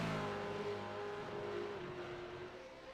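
Mustang race cars at Laguna Seca in the iRacing video game, a continuous loud engine drone with a steady high whine that holds throughout, as of a pack running close together.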